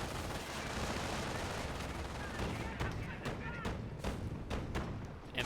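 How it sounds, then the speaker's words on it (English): MG42 machine gun in a Company of Heroes battle firing at close range on an enemy squad, a dense continuous roar of rapid gunfire with sharper bursts cracking through toward the end, loud and steady throughout. "MG42 opening up now onto this rival squad at very close range, doing a lot of damage"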